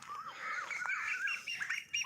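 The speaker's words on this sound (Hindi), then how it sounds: "ये कोयल की आवाज़ है जो बहुत ही खूबसूरत आवाज़ है।" An Asian koel calls in a rising, repeated series of clear whistled notes, with other birds chirping faintly around it. The call sounds moderately near and carries over a quiet outdoor background.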